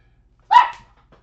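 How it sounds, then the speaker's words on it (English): A single short dog bark, close and fairly loud, rising sharply and fading within half a second, with near silence before and after and a faint trace of another small sound. "Sorry, dogs are in here barking again"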